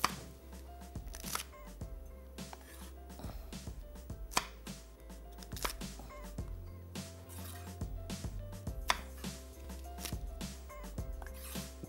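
Thick green chillies are cut in half with a knife on a chopping board in a kitchen: crisp, irregular cuts and taps repeat throughout, close and clear over a low background hum.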